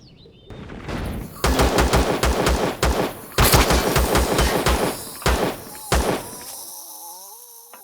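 Rapid bursts of automatic gunfire in the sci-fi survival game Empyrion, loud and close, in several volleys with brief pauses, ending in quieter electronic tones.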